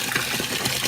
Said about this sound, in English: nice tub filling up here with water